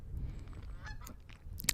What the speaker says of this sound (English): These geese are having a time of their lives